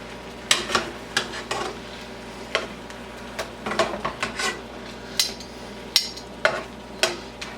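Chicken fillets turned over in a hot frying pan, giving a series of sharp utensil scrapes and clinks against the pan over a steady low sizzle, close and fairly quiet.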